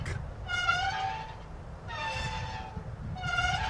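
An Amtrak train sounds its horn in three long harmonic blasts over a steady low rumble of rolling wheels, fairly loud and near.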